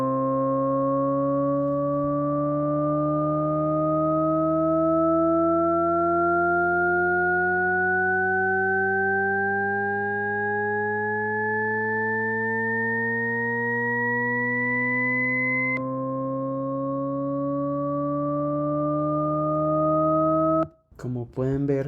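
Stacked sine tones form a Shepard tone, a smooth harmonic chord gliding steadily upward in pitch without seeming to rise, holding loud and even for about twenty seconds before a sudden reset and a brief clatter at the close.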